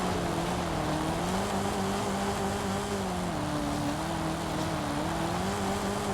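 A Camaro in a video game spins its wheels off-road as the engine drones loud and steady, its pitch slowly rising and dipping for several seconds.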